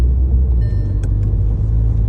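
Close, loud low rumble of a Volkswagen Polo GTI with 2.0 TSI engine and DSG7 gearbox under acceleration, steady and deep, with a brief click partway through.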